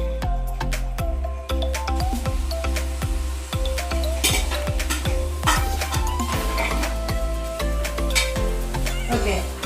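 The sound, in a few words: sliced onions frying in oil in pot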